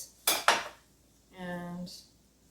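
A knife fan-slices an avocado on a cutting board: two crisp, sharp taps close together, then a brief tonal ring and a faint final click, all close by with no talking.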